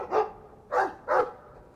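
A dog barks three times inside the Dragon Age 2 video game, short sharp barks spaced about half a second apart, moderately loud and clear with no talking.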